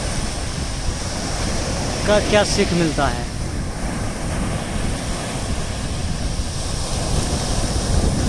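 Constant roar of ocean waves and surf on a vast sea, with wind buffeting the microphone, as someone speaks Hindi briefly over the wash.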